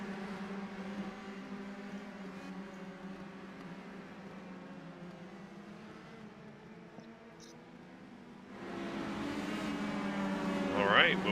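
A pace car pulling away ahead of a field of Indy Pro 2000 cars lined up two by two at Phillip Island in iRacing, steady engine drone rising louder near the end, with a voice talking over it.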